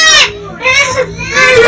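A small child cries loudly and close up at home, giving three rising, wailing bursts with short breaths between them, and other children can be heard in the room around them.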